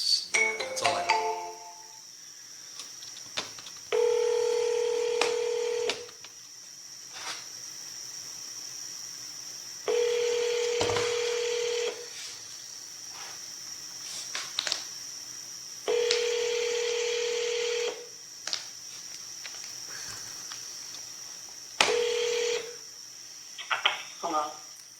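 A phone call is being placed to a property seller, with a series of steady tones, each lasting about two seconds, repeating at regular intervals over a constant high-pitched background tone.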